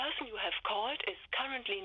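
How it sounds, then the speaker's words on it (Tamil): Over a failed phone call, a tinny, narrowband recorded voice announces that the number cannot be reached. It plays as continuous speech for about two seconds with brief pauses. "மாடர்ன் நம்பர் நாட் ரீச்சபிள்னு வருதே"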